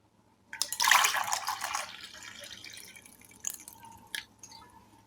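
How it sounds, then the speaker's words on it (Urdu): Hot water poured into a glass tumbler for a hot-and-cold water diffusion experiment: a burst of splashing pour for about a second and a half, then a quieter trickle and a couple of sharp drips or clinks near the end. "ایک گلاس میں گرم پانی ڈالتے ہیں"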